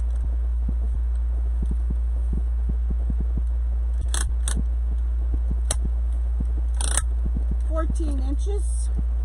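Scissors snip through wreath materials for a DIY craft in a quiet room, a handful of sharp, separate cuts landing at irregular intervals over a low steady hum, with some faint handling noise near the end.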